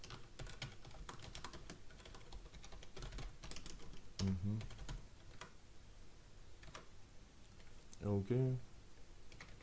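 Rapid clicking of keys on a computer keyboard runs throughout as someone types code, steady bursts of taps at close range, with a voice speaking briefly twice over the typing.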